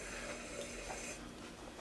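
Water trickling from a dropper into a glass of Gentleman Jack whiskey, a soft continuous pouring hiss that eases off partway through, heard alone.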